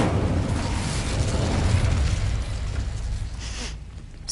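Incendio fire spell cast in Hogwarts Legacy, a loud sustained whooshing roar of flame with low rumbling, fading out near the end.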